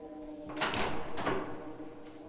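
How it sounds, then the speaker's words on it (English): A door bursting open in a narrated horror story, a broad swelling whoosh and creak rising twice over about two seconds against a low steady hum, close and moderately loud, with no voices. "the fourth door flew open"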